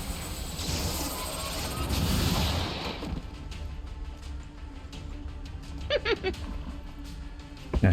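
A soul fire attack in XCOM 2 Long War of the Chosen, a rushing whoosh and rumbling burst for about three seconds, followed by sharper impact crackles and thuds, with game sound effects throughout.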